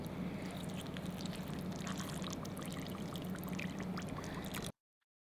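About 250 ml of water poured steadily into a container, a continuous close splashing pour that runs for several seconds alone and then stops abruptly.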